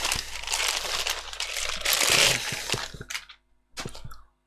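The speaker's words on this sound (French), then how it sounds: "on va enlever les petits sachets" Small plastic bags being pulled out and handled while unboxing a Hakko FX-951 soldering station, loud close crinkling and crackling in bursts with brief pauses near the end.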